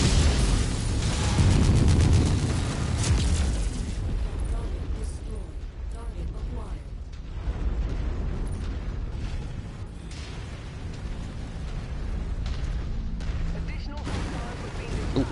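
Loud, rumbling explosion bursts from a wall being destroyed in MechWarrior 5: Mercenaries, a heavy blast up front that fades into continued combat booms and debris noise, with a voice talking over parts of it.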